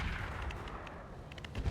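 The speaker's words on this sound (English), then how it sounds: "Not a great long tom shot" A Long Tom artillery piece fires in the BattleTech video game, a faint, low rumbling boom with scattered crackling impacts over a short span.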